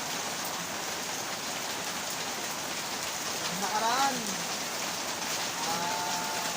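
Heavy typhoon rain pours steadily over farm fields, forming a dense, continuous hiss close by, while a voice speaks briefly and a faint whistling tone rises in the middle.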